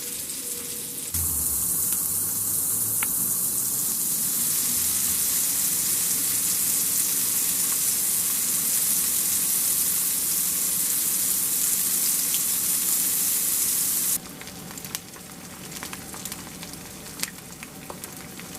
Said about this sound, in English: this morning, I'm cooking up some of the sausage patties that I made